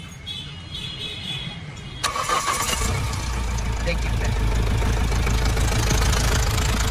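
A car engine cranks and fires about two seconds in, then settles into a steady, close idle with a sensor tester clipped to a signal wire. Someone speaks briefly before it starts.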